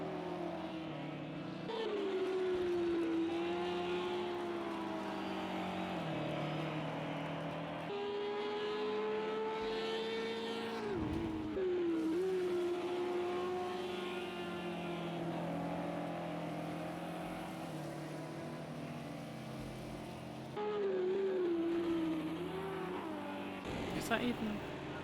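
GT3 race cars circulate at Laguna Seca in Project CARS 2, a continuous loud drone of engines with rising and falling pitch through shifts, steady throughout with a voice talking over it.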